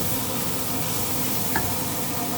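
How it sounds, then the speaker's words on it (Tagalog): Spices such as cardamom powder and pepper, with salt, sizzle in hot oil in a pan, giving a steady, dense frying hiss that stays close and even throughout. "at nilagyan na din natin ng oil guys at gigisahin po natin"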